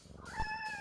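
A single short cat meow from the video game No More Heroes 2, a clear rising-then-falling tonal cry lasting under a second, alone and fairly quiet.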